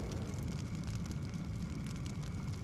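A house fire burns as a steady, dense crackling roar with a heavy low rumble, loud and close, with no voices.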